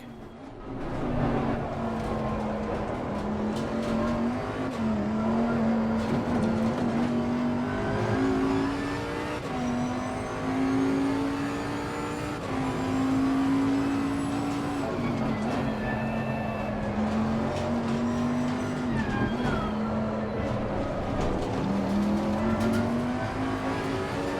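Race car on the Nurburgring GP circuit in Assetto Corsa Competizione, engine holding a steady droning tone that rises and dips through gear changes and corners, with tire noise underneath, loud and continuous without talk.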